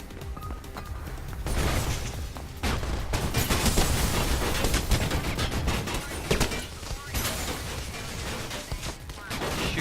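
Gunfire in the Mirror's Edge video game, dense bursts of shots crackling almost continuously over several seconds, fairly loud with brief gaps.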